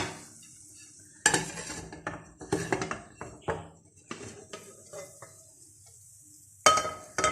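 A cooked potato cheese omelette is lifted out of the pan with clinks and scrapes of a utensil against metal, a series of scattered knocks and taps with quiet gaps in between.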